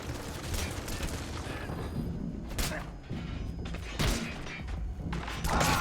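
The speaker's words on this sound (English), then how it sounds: "Oh god, that's a shotgun to the face." Shotgun blasts in Metal Gear Solid V: The Phantom Pain ring out as sharp, fairly faint thuds amid gunfire and game noise, with a player talking over them.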